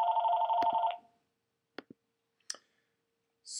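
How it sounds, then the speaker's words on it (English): A telephone rings once for about a second, a bright electronic two-tone trill, followed by a few handset clicks and quiet pauses, then a brief electronic tone at the end. "Pardon me, we have a phone call coming in here."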